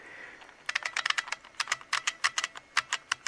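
An old PC keyboard with worn, slightly sloppy keys being typed on, a close run of sharp clacky keystrokes in uneven bursts with brief pauses, loud and alone.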